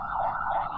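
An ambulance siren wails steadily in real life, a continuous two-tone sweep held loud and close for under a second with no voices over it.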